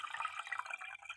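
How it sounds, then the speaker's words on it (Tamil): Raw parboiled rice is swished and rinsed in water by hand, giving soft, continuous splashing and trickling close by with small irregular surges, no voices. "தண்ணி தெளிவாகிற வரைக்கும் நல்லா களைஞ்சி எடுக்கணும்"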